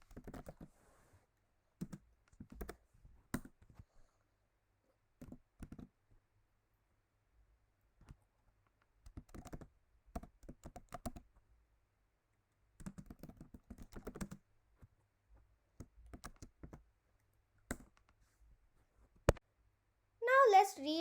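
Code goes into a computer keyboard in scattered bursts of clicky keystrokes separated by long quiet pauses, close and fairly soft, with brief speech in places.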